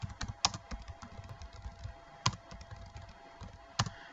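Quiet, close typing on a computer keyboard while entering a network route command, with rapid irregular key clicks and a few sharper louder keystrokes spaced through the run, no speech.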